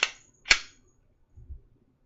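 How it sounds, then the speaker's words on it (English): A handgun slide racked back and snapping forward to lock, two sharp close metallic clacks about half a second apart followed by a soft low thud. "Weapon slides all the way back, comes forward, it's locked in."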